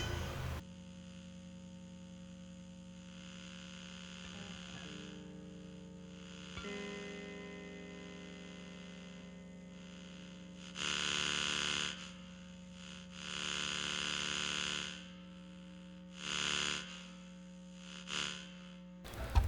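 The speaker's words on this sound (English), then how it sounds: "so hopefully that was pretty apparent about the humming noises, so it's real" A computer mouse's circuitry held near electric guitar pickups produces a steady buzzing hum with tonal harmonics, swelling into louder bursts of static-like noise several times.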